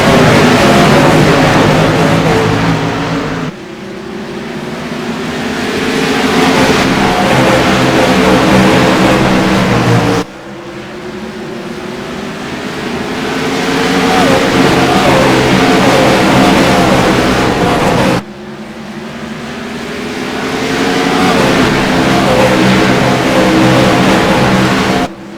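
Race cars roar past in repeated loud waves at Bristol Motor Speedway after a green-flag restart, each engine sweep rising and falling as the pack laps the short oval, with no talk over the din.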